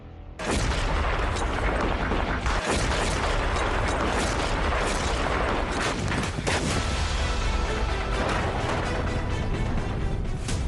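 A loud, continuous roar of Indian Army artillery gunfire and booming blasts fills the whole stretch, dense and unrelenting, with sharp cracks standing out.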